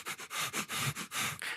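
A person imitates a creature sniffing while crawling along the ground: a quick rhythmic series of about eight short, close, breathy sniffs, each sharp and distinct with brief gaps between.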